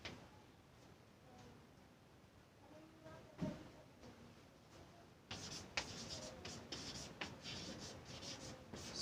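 Chalk or marker strokes on a classroom board as numbers are written, a run of scratchy, rhythmic scrapes that grows busier and louder in the second half, close by and with no voice over it.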